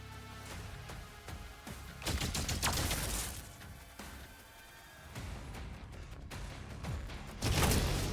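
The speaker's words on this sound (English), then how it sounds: "He is shooting through the wall." Heavy gunfire in the video game DOOM: The Dark Ages, with dense bursts and volleys of shots over a constant rumbling game backdrop, rising in loudness near the end.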